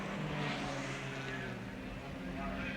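Touring cars, including a Ford Falcon GTHO, racing at Warwick Farm in 1972, a steady engine drone with a distant wavering whine heard under continuous race commentary.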